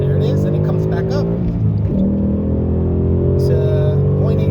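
A Dodge Demon engine held at high RPM roars loud and close, its steady harmonic drone shifting slightly in pitch, with a voice talking over it.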